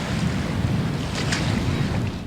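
Rising River Itchen floodwater in Winchester, a steady, close rush of flowing water with a dense, churning low roar that holds evenly throughout.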